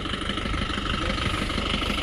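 A diesel bus engine idles steadily before pulling away on a trip, a continuous low rumble with slight vibration, close and fairly loud, with no talking.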